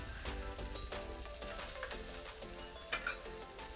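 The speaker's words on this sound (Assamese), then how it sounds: "মাছখিনি ভালদৰে এনেকৈ ভাজি ল'ব তেলত" Already-fried fish pieces crackle and sizzle steadily in hot oil in a pan, a close, continuous frying hiss with a few sharper spits and stirring scrapes, and no voices.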